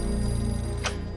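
A telephone rings in a short, steady trilling burst, fairly loud and clear, over a faint background hum.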